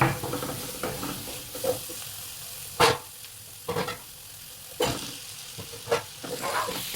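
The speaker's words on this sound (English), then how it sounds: "now she only has to cook it about 3 or 5 minutes together with the sambal paste" Pre-cooked eggplant pieces fry with sambal paste in a pan, giving a steady close sizzle broken by several louder stirring scrapes and clatters, with no talking.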